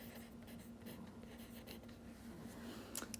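Faint, close scratching of a pen or pencil on paper as a vertical subtraction problem is written out, with soft irregular strokes over a quiet room hum and a slightly louder scrape near the end.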